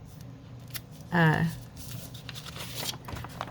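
Scissors make one quick, close snip-and-slide along the edge of a paper envelope pocket, trimming off excess tape, with someone talking softly before and after the cut.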